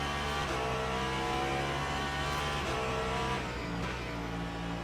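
A race car engine drones steadily in the Le Mans Ultimate sim at Spa, driven gently on cold tyres, its loud continuous tone rising and falling slightly in pitch with no speech over it.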